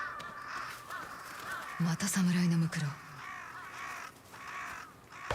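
A flock of crows in the Ghost of Yotei video game caws in scattered bursts, harsh calls at mid distance, while someone speaks briefly in the middle over them.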